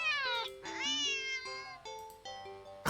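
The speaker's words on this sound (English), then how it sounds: "the cat meows sharply at you and dashes off around the corner into the hall" A cat in a scary video game lets out several sharp, drawn-out meows in quick succession, close and clear, ending with a short abrupt noise.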